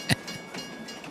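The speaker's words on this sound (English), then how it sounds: "I think the train's coming." A train arriving in Farming Simulator 22, a faint rolling rumble with soft rhythmic clacks after one sharp louder knock at the start.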